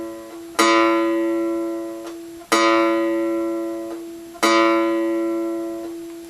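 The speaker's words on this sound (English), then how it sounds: "So there's your bottom A." The bottom A string of a cigar box guitar in open A tuning, plucked three times in a row; each note rings out clearly and slowly decays before the next pluck, close and alone.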